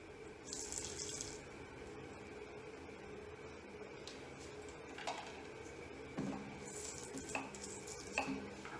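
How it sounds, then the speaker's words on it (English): Water from a tap washes soil off the trunk of a Buxus microphylla shohin bonsai, a steady faint splashing and trickling with a few soft knocks and stirring sounds throughout. "am washing the trunk line and expose the trunk line here"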